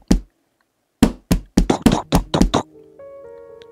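Knocking on a bathroom door: one isolated knock, a pause, then a rapid run of about nine close, sharp raps, followed by a faint low tonal hum.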